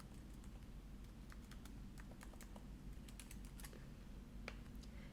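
Steady clicking of keys on a computer keyboard as a password is typed, irregular close taps over a constant low hum, with no voices.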